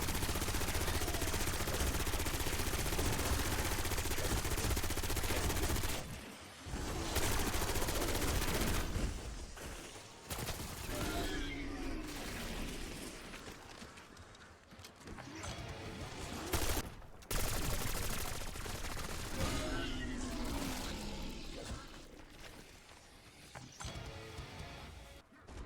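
Light machine guns fire in Call of Duty in long, dense bursts of rapid gunfire. Brief gaps separate the bursts, and quieter stretches fall between them.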